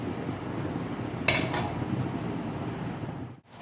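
A lid is set back onto a cooking pot of simmering tuna in coconut milk, giving one short metallic clink over a steady background hum that drops away abruptly at the end.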